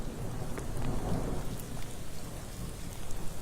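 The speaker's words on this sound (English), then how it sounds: "there's some of that thunder I feel like I'm hearing in the background" Heavy rain during a severe storm in Northwest Florida with low rumbling thunder underneath, a dense, steady roar of downpour and no voices.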